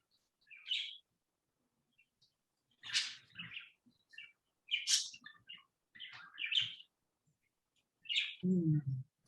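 Pet birds chirping indoors, a series of bright high tweets and short calls arriving in separate bursts with quiet gaps between, fairly close; a low voice briefly sounds at the very end.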